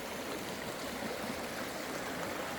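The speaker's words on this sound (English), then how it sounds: "spending a day in a river like this, just listening to the water flow" A river stream flowing steadily, a dense continuous rush and babble of water, close and even throughout, with no talk.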